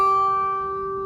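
A single guitar note picked on the 3rd fret of the 1st string, ringing clearly and alone and slowly fading over about a second.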